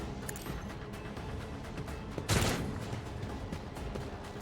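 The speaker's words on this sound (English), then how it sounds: "So we're gonna shoot this guy." A single loud gunshot bursts out of the video game Rogue Trader partway through, with a short decaying tail over a low, busy game backdrop.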